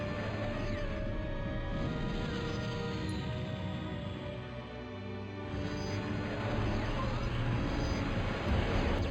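Aircraft fly over in Total Annihilation, giving a continuous droning engine hum with shifting pitch that dips briefly midway and then swells back louder, steady and fairly close.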